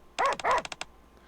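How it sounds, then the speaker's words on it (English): Dog named Volt barking at a tree, a close, loud burst of two quick barks followed by three shorter, softer yips in rapid succession, heard alone. "Volt merely continues to bark while facing the tree."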